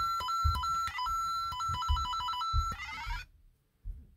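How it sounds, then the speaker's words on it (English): A plush New Super Mario Bros. cushion plays the item-appearing sound: a bright, loud electronic chime in rapidly repeating stepped notes, with soft thumps underneath, stopping abruptly before a brief muffled bump. "So it has the item appearing noise coming out of it."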